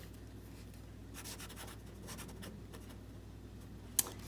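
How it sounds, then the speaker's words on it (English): Pen scratching faint strokes across watercolor paper as a painting is signed and dated, soft intermittent scribbles close by in a quiet room, ending with a sharp small tap. "So the only thing left to do is to sign and date."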